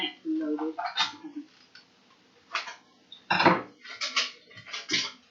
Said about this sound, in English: I am using Idaho potatoes, and I'm mixing them up.